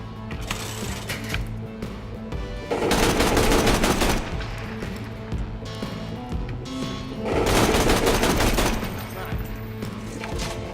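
A belt-fed machine gun with a Jacobs barrel firing in Borderlands 2: two sustained bursts of rapid, dense gunfire, each lasting a couple of seconds, over steady game background sound.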